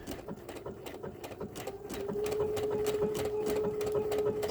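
A sewing machine stitches appliqué onto a quilted wall hanging, a rapid regular patter of needle strikes with a steady motor hum that grows slightly louder midway, running continuously and alone.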